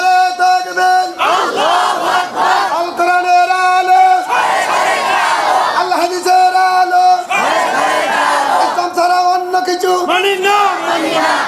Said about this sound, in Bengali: দুহাত উঁচু করে স্লোগান দিয়ে আল্লাহর দেখান।